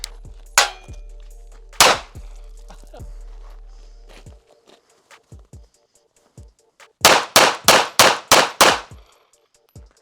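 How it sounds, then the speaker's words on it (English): Pocket pistol fired from inside a pocket: two loud, sharp shots, then a quick burst of about six close, rapid reports, with scattered clicks and handling noise in between. "I feel like you should be able to shoot it from your pocket"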